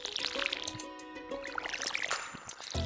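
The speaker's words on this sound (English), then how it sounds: "water the crops as usual" Watering can pouring over crops in the farming game Stardew Valley, a soft trickling splash with chiming game tones and background music, fairly quiet and continuous.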